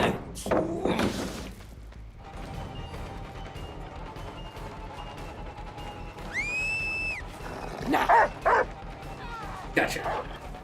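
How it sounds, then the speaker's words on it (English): Dog barking in the video game Dead by Daylight, a few sharp yips and barks mixed with game crashes and effects, with a player talking over parts of it. "The dog definitely can get stuck."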